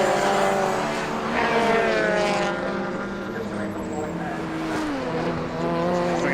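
Race cars lapping the Knockhill circuit, loud engines droning and rising in pitch as they pass close, overlapping throughout under a commentator's voice.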